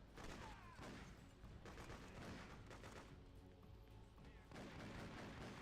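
Gunfire in the video game Freedom Fighters: a dense, steady barrage of overlapping shots and booms that fills the whole stretch with little letup.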